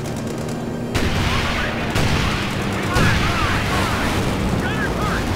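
Tank gun fire in the video game Company of Heroes 2, heavy booms recurring about once a second over a constant roar of battle noise.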